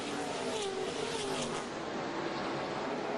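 Field of stock cars roaring off the green flag at an ARCA race at Charlotte in 2001, a dense continuous engine drone heard at a distance with no gaps, spread across the whole moment.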